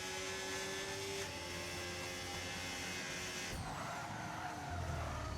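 A race car in a racing video game skids and slides after contact during an online race in Austria, a continuous close engine drone with a sharp tyre screech that breaks in partway through, no talking.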